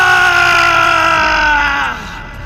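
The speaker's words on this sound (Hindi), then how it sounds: "मटका फूटते ही भूत चिल्लाने लगता है" A ghost screams in a Hindi storytelling scene right after its clay pot shatters, giving one loud, sustained, wavering wail that holds steady and then drops and fades near the end.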